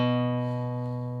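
A single sustained guitar note on the A string rings steadily, decaying slowly over about a second with no other sounds.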